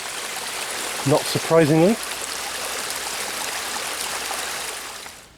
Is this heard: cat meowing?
no